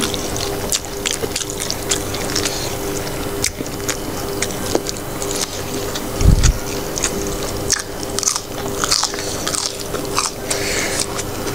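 Close, loud biting and crunchy chewing of a crisp, sweet salad served with tomato rice and red-cooked chicken, steady and wet with repeated crunches and no talk.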